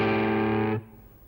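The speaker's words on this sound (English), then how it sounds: "this is a really cool bluesy riff in the key of A." A sustained, distorted electric guitar chord from a bluesy riff in A rings out alone, then cuts off abruptly, leaving a faint tail.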